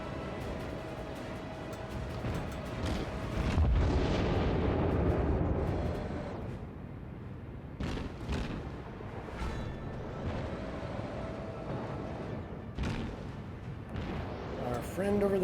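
Naval gunfire in the World of Warships game: heavy booming shell blasts and explosions roll through a dense battle soundscape, with a loud burst near four seconds and further sharp hits later, while a player talks over the action.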